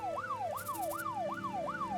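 An ambulance siren wails in a repeating rising-and-falling pattern, about five sweeps in two seconds, loud and close over faint vehicle rumble, in the video game Troubleshooter: Abandoned Children.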